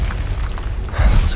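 A bomb goes off in the video game Warzone, a short burst with a heavy low boom that swells near the end, loud and close.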